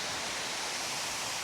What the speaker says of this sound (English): obviously we've got running water here